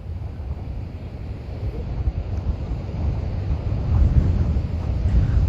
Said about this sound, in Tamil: சென்னை பட்டினப்பாக்கம் கடற்கரையில் கடல் சீற்றத்துடன் சூறைக்காற்று வீசி வருகின்றது